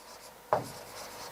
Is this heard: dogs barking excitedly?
no